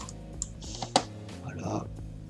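A single key press on a computer keyboard, the delete key tapped once during video editing, a sharp near click among a few light typing taps with someone talking over it.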